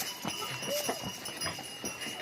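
A horse clip-clops along a mountain pilgrimage path to Vaishno Devi while carrying a rider, its hooves giving a steady, moderately close rhythm of soft knocks over faint background noise.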